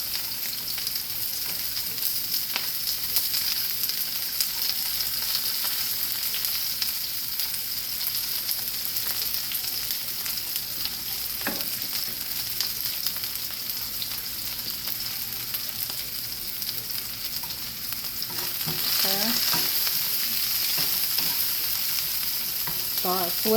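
Onions and green peppers fry in a pan with a steady, bright sizzle that holds for a long stretch, close by, and swells louder near the end as the vegetables are stirred.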